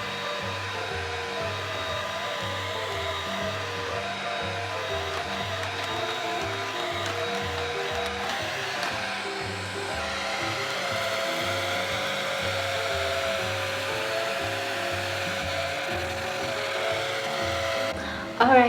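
A Black + Decker vacuum and wash duo multi-surface cleaner running on max mode, a loud, steady motor whine and whoosh that continues close up for nearly twenty seconds, shifting slightly in pitch midway.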